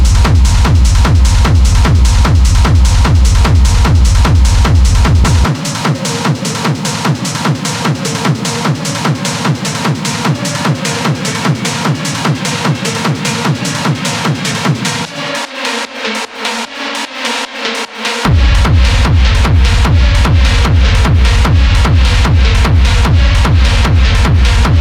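A live-produced industrial techno track made in Ableton, loud and driving with a relentless pounding four-on-the-floor kick and gritty repeated percussion; the low end drops out around the midpoint and cuts again briefly before slamming back in.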